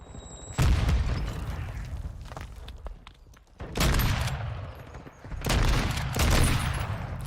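Marksman rifle fire in the video game Modern Warfare 2 comes in three loud bursts of booming, rapid shots, each followed by a short lull.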